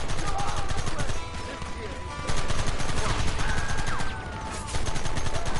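Heavy gunfire in Red Dead Redemption during a shootout, with many overlapping shots forming a continuous loud barrage and brief dips in intensity, mixed with game noise.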